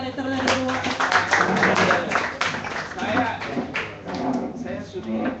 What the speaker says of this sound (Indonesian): Aplaus dulu dong